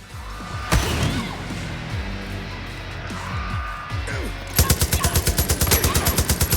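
Gunfire erupts in the video game Far Cry New Dawn: scattered single shots and impacts, then a rapid automatic burst near the end, loud and close amid other game noises.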